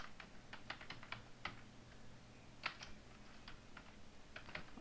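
A computer keyboard clicks as HTML code is typed, with irregular short runs of light key taps and a few pauses, close but quiet over a soft background hum.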